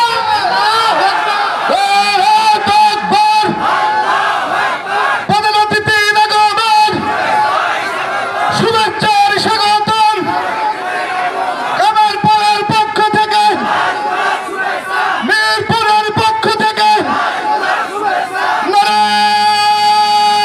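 A large crowd at an Islamic religious gathering in Kushtia, Bangladesh, shouts back in loud, repeated chanted bursts answering a takbir call, alternating with amplified calls over a loudspeaker.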